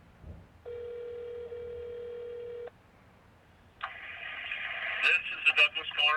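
A telephone call to Douglas Corner Cafe gives an electronic ringback tone heard through the phone, followed by a brighter burst of tones and faint chatter from the line as the call connects.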